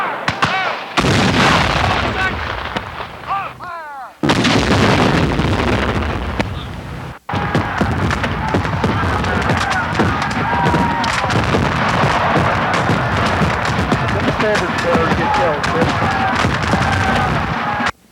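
Civil War artillery cannon fire at the Battle of Sayler's Creek in 1865, a dense, continuous barrage of booming blasts and crackling gunfire, loud and sustained with brief lulls, a voice faintly under the din.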